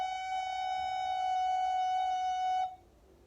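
Recorder holding one long, steady F sharp note, clear and fairly near, sustained for over two seconds before stopping abruptly, leaving a faint room hiss.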